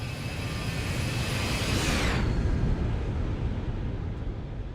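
Boeing 737 (ZIBO) jet engines roaring on departure in X-Plane: a loud, steady, broadband rumble with a high whine that sweeps and fades out midway, leaving the deep roar to continue alone.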